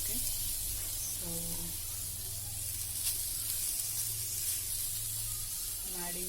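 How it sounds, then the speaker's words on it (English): Grated coconut frying in a pan for Mangalorean-style chicken sukka, giving a steady broadband sizzle that runs throughout beneath a person talking. "we need to fry this coconut a bit"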